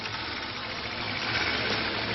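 A motorcycle engine runs steadily in a French film scene, a constant mid-pitched idling drone with no speech over it.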